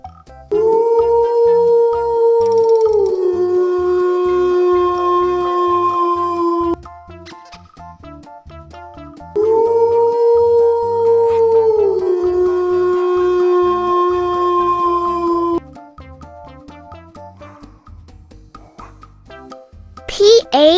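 Two long wolf howls, each rising then holding a steady tone for several seconds, separated by a pause, with faint chimes and a voice near the end; likely a recorded or imitated howl.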